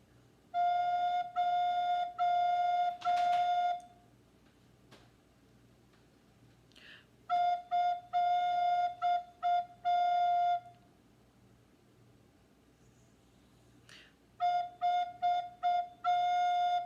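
Several separate sustained F notes played on a wind instrument in a beginner lesson, short tones repeated in three clear groups with quiet pauses between them, with no talking.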